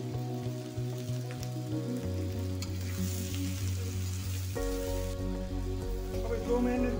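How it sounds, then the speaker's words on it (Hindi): Pumpkin sabzi fries in a pan on a gas stove, a steady soft sizzle that runs the whole time alongside a constant low hum and a few faint clinks. "मैंने 2 मिनट ऐसे फ्राई कर लिया"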